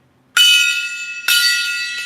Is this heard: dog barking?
no